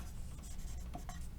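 A pen scratches steadily on a surface while drawing a loop shape during a physics lecture on magnetic materials, a soft, close, continuous scribble with no talk over it.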